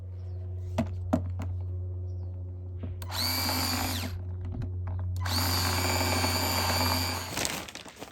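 A power drill bores holes through the bottom of a plant pot used for potting succulents, giving two sustained whining bursts of a few seconds each over a steady low hum, close and fairly loud.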